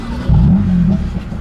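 A BMW M3 CS engine fires up and settles into a loud, deep rumbling idle, close by, short and without talk.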